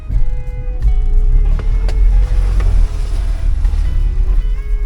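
A 4WD vehicle in second gear, high range, ploughs through a bog hole on a winter camping trip: a loud, close, steady engine drone with brief sloshing surges of water, and no talk.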